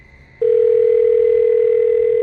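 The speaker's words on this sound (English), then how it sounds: "I tried to call her, but it went straight to voicemail." A phone call connects to a steady, loud, unbroken electronic tone that starts abruptly and holds on alone to the end.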